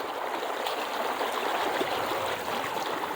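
River white-water rapids rush in a continuous loud, hissing roar, close and steady, with no voices.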